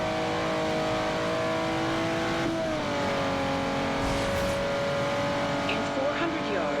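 A car engine in Forza Horizon 2 drones steadily while driving a long stretch across the open-world map around Nice, loud and continuous, its pitch dropping at a gear change, with a voice talking over it.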